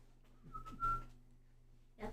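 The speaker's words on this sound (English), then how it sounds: "These feel like good happy whistles" A person gives a brief, cheerful whistle: one thin wavering note held for about half a second amid faint room noise, followed by a short soft rustle.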